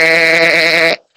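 A single goat bleat, one loud, close, sustained quavering cry of about a second that breaks off abruptly into silence.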